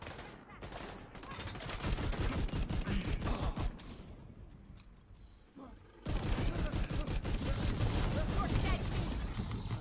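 A high-end submachine gun in The Division 2 rattles off long, rapid bursts of automatic fire, close and loud, pausing briefly before another sustained burst; game voices speak faintly between shots.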